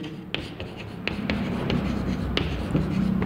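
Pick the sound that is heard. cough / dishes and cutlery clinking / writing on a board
writing on a board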